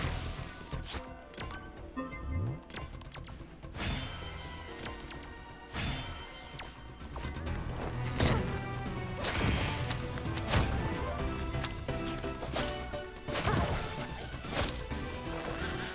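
Repeated heavy smashing impacts from a character pounding the ground to open skill points in the RWBY: Arrowfell video game, sharp crashes and thwacks at irregular intervals over a busy game soundtrack.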